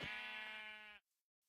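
A single sheep bleat from a mob in a video game, a steady harmonic cry lasting about a second and then cutting off into silence.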